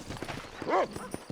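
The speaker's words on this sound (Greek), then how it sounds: "Έλα εδώ ρε άλογο. Έλα εδώ." Horse in the Red Dead Redemption video game: hooves clip-clop through the clip, with a short whinny rising in the middle. Someone talks intermittently underneath.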